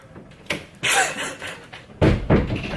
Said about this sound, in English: close my door